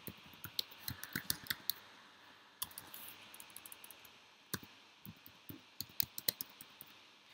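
Typing a web address on a computer keyboard: a steady patter of quiet, close key clicks in quick irregular bursts, with a brief pause partway through, over faint room noise.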